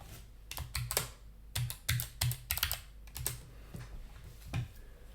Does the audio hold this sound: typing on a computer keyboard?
yes